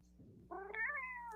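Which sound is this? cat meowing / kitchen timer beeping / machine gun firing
cat meowing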